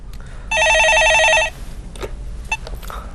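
A telephone rings in the studio of a Korean stock-market call-in show, one loud electronic trilling burst lasting about a second, followed by faint clicks and handling noise.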